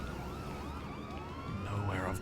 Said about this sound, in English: There's a lot of sirens about.